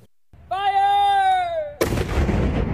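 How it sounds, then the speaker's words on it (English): A howitzer fired in a Utah mountain canyon for avalanche control lets off one heavy, booming blast after a long drawn-out shouted call. The report rolls on briefly and loudly afterward. "Crews did some testing firing off howitzers in Big and Little Cottonwood Canyons."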